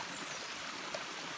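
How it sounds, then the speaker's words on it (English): A river runs steadily past a dammed reservoir pool, giving an even, continuous rush and trickle of water that stays close and unbroken throughout. "It hasn't slowed the river at all. We've still got the same flow, and it's really nice."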